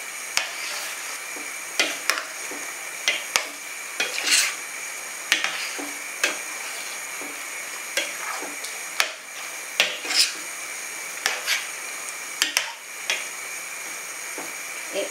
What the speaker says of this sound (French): On va remuer un peu.